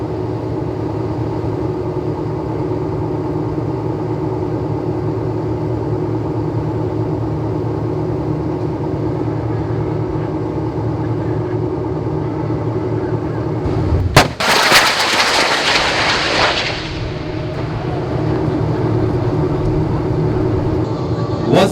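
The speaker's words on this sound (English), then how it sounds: "The Gempita ATGW Ingwe, equipped with a 127mm rocket launcher, will engage target number 3" A Gempita armoured vehicle fires an Ingwe anti-tank guided missile from its 127mm launcher at a live-fire exercise, a sudden loud blast and roaring rush of about three seconds that cuts through a steady drone of engine noise, which then resumes alone.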